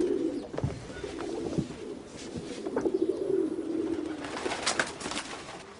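Pigeons coo in low, throaty, repeated calls close by, overlapping one another with soft wing flutters and rustling throughout.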